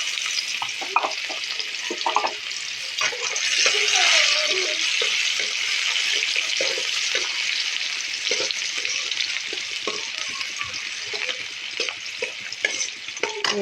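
Sliced onion sizzling in hot oil in a pan over a gas flame, a steady loud frying hiss broken by scraping stirs.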